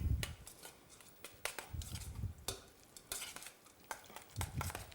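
Spoon stirring and scraping through a sauce of finely diced onion, flat parsley, gherkins and capers in a bowl, irregular close clinks and wet mixing strokes with brief pauses.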